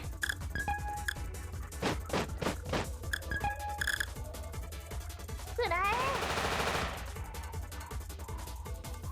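Tank cannon fire in the video game War of the Human Tanks: several sharp booming shots in quick succession, then a longer swelling burst of blasts, all over continuous game music and effects.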